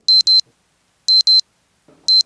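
A classroom timer alarm sounds three times, each a pair of sharp electronic beeps spaced about a second apart, loud and close, with a faint rustle of movement between the bursts.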